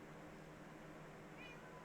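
A cat meows once in the Minecraft modpack game FTB Stone Block 4, a brief, faint in-game call over steady low background hum, with no one talking.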